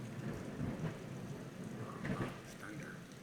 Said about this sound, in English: Thunder.